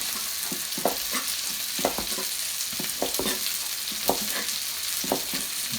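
Onions sizzle steadily in a hot pan during fajita or carne asada prep, a constant frying hiss with periodic soft scraping stirs, close and moderately loud with no talking.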